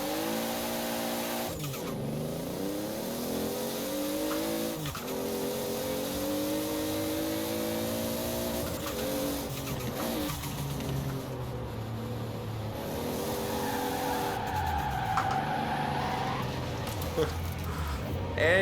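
A tuned Toyota Supra with a carbon rear spoiler drifts in Forza Horizon 4. Its engine revs rise and fall repeatedly through slides, and it keeps up a loud, continuous drone with brief bursts of tire squeal.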